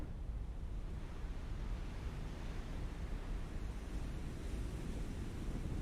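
A submarine diving below the waves in the naval game Cold Waters, heard as a continuous rush of churning water and low, wind-like noise, steady and fairly faint with no voices.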